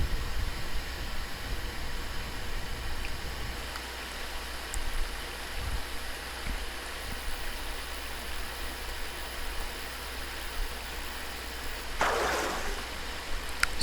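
A steady, hissing rush of a flowing brook in the Ultimate Fishing Simulator game, continuous and even throughout, with a brief brighter splash-like burst near the end.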